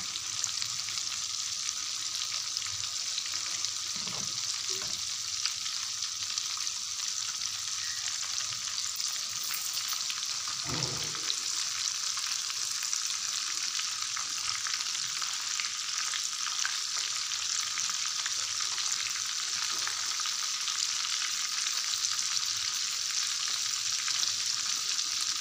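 Fish fingers fry in hot oil with a steady, dense sizzle throughout, while a couple of brief soft knocks mark the pieces being turned over.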